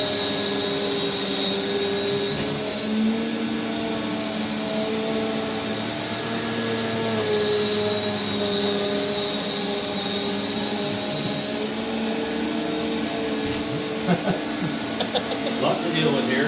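A Prolux CTX water vacuum runs steadily up close, a constant high whine over a deep motor drone, with a few faint knocks and shifts in pitch as it is moved.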